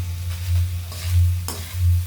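Shredded chicken pastil filling with pepper is stirred and toasted in a pan, giving a soft continuous sizzle with rhythmic scraping strokes of the spoon and a low, pulsing rumble from the stove.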